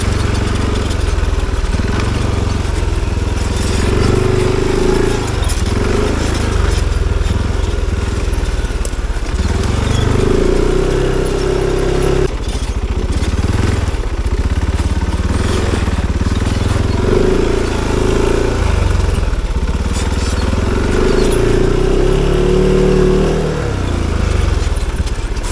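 An ATV ridden without its fenders, its engine running steadily and close up the whole time, the pitch rising and falling as the rider throttles on and off, with no voices.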